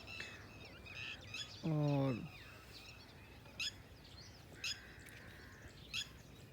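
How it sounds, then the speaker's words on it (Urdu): Birds chirp on a quiet morning walk outdoors; one clear descending call rings out near the start, followed by scattered short tweets at intervals, while a person speaks briefly. "پرندے چہچہا رہے ہیں"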